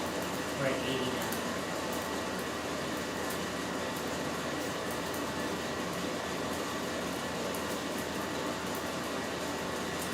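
A Roest coffee roaster runs at high airflow during second crack, giving a loud, steady fan-like whoosh and rumble that holds without pause, with a voice speaking briefly early on.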